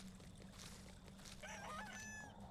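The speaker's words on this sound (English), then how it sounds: "Oh my God. The chicken." A video game chicken crowing and clucking, a short rising crow sitting fairly faint over a steady background hum.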